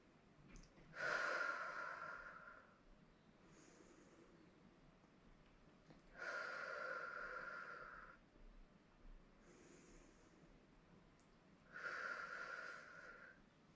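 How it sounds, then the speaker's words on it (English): Three slow, deep breaths during a quad stretch, each a breathy inhale-exhale lasting about two seconds, spaced several seconds apart, close and fairly soft against a quiet room. "Again, just taking a few deep breaths."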